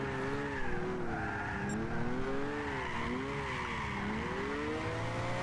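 An HKS-built Nissan Silvia S15 drifting in Gran Turismo 6, held flat out in fourth gear with some handbrake, its engine droning steadily while the tires squeal continuously in wavering pitch.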